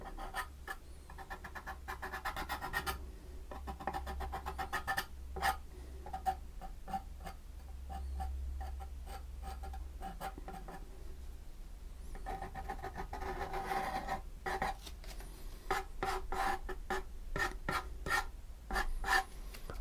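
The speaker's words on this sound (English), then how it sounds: "Just scrape a little bit of paint off here and there like that, see?" Palette knife scraping and dragging through acrylic paint on canvas, faint and close, with scattered clusters of rapid scratchy strokes separated by quieter pauses over a low background hum.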